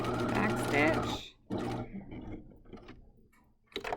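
A sewing machine back-stitches at the end of a seam on a fabric outer bag, giving brief bursts of mechanical whirring and clatter, with a person talking at the start.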